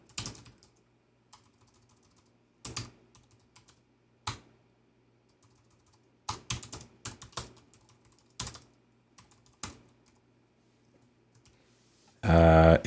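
Keystrokes on a computer keyboard while entering text into Adobe XD, heard as short irregular bursts of clicks separated by pauses over a low steady hum, ending in a sudden louder noise.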